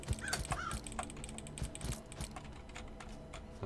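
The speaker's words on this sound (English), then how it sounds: "Bird!" A bird caws a couple of times early on in the video game Satisfactory, heard against a busy mechanical clatter of factory machinery and clicking keys.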